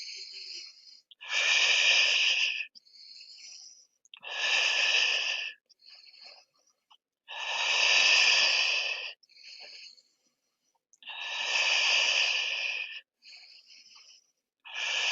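Slow, deep ujjayi-style yoga breathing held in a pose, long hissing inhales and exhales alternating with shorter breaths, close and steady in a rhythmic cycle of roughly six seconds, with no talking.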